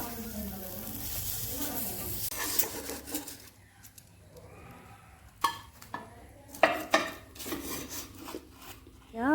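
Rohu fish pieces with mustard being turned over in a pan, giving scraping and clinking of a utensil against the pan in short bursts, with a soft background hiss and no talking.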